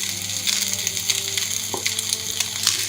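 Eggs are stirred into chicken and vegetable fried rice sizzling in a hot pan, a steady close hiss with scraping stirs and no talking.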